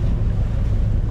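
Sailboat motoring with its mainsail still up, the engine a loud, constant low drone mixed with rushing wind across the microphone and water noise, with no talk.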